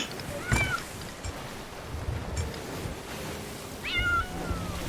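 A pet cat meows twice aboard a boat in a video game, rising-falling cries separated by a few seconds, heard over steady wind and water noise.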